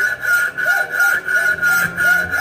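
A hand saw cuts through a broken fishing rod held in a vise in steady, even back-and-forth strokes, about four or five per couple of seconds, each with a rasping, slightly squealing pitch. No one speaks.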